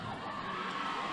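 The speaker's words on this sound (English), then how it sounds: "Can you hear our crowd?" Junior roller derby championship crowd cheering and shouting, a steady, dense roar of many voices filling the arena throughout.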